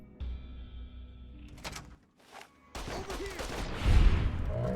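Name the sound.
plasma pistol shots in video game Fallout: New Vegas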